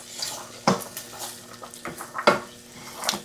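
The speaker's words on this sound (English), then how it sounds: "Mix this all in here together." A spoon clinks and scrapes around a pot of white bean tomato soup as finely cut carrots and vegetables are mixed, giving several sharp knocks against the side amid soft stirring.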